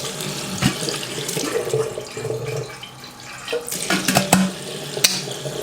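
Tap water runs into an old school kettle at close range, a steady splashing rush broken by clinks and knocks of the kettle, with no talking.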